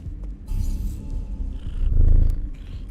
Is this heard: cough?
no